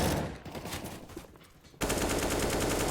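AK rifle fire in Counter-Strike, loud sustained automatic bursts that briefly ease off, then return as a dense, continuous burst of gunfire.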